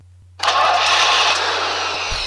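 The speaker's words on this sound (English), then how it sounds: "And now let me start my car." A car engine starts up close by after a short silence, catching at once and settling into a loud, steady running roar over a low hum.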